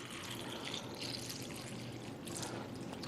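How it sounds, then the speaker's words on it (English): Tap water pours steadily into a container, a continuous close splashing trickle with no pauses and no talking. "we're just going to simulate that by pouring some tap water in here."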